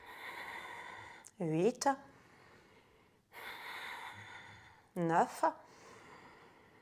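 Slow, airy breaths are drawn during a beginner core-strengthening yoga exercise. Two long, soft breathing sounds each give way to a voice counting aloud.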